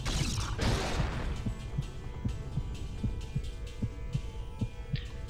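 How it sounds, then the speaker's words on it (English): Deep, slow heartbeat of a gigantic tower with an eye in a video game, about a dozen soft even thuds pulsing under a low droning hum after an initial muffled crash. "so apparently the gigantic tower with the eye on it has a heartbeat"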